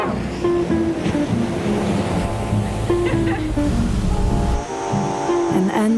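Sea waves from a film soundtrack surge and wash steadily under a layered musical score, full and close, with a brief dip near the end before the swell and music return.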